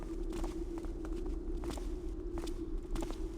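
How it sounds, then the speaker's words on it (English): Footsteps in the Thief video game, a steady walking rhythm of soft repeated steps over a constant low ambient hum, moderately distant and alone. "I listen to the sound of footsteps in the distance"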